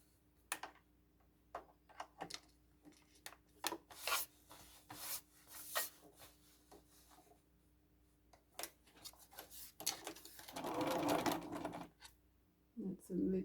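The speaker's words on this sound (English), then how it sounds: "So I'm going to sew on all 4 sides" Sewing machine stitching all four sides of a red velvet tote bag, with bursts of rapid mechanical whirring between pauses, a louder sustained run near the end, and intermittent rubbing and handling noises close by.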